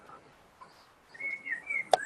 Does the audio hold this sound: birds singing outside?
yes